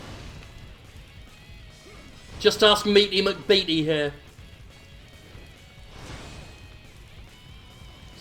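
Heavy smashing impacts in Dynasty Warriors 8 land in a rapid burst of four or five loud hits mid-clip, with someone talking before and after.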